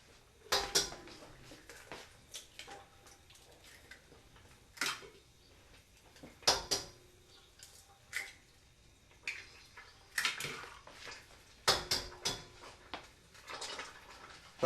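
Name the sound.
eggs being cracked into a bowl for pasta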